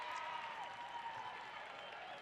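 Steady applause and crowd noise fill a girls' high school basketball gym, Mountain Ridge vs Copper Hills, as players leave the floor, a continuous even wash of clapping with a faint tone running through it.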